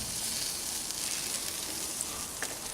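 Burgers frying in a pan give off a steady, loud sizzle that runs the whole time, with a few small pops and no voices.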